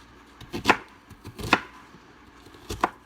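A knife chops food on a cutting board during home meal prep, three sharp, close strikes spaced about a second apart over a quiet background.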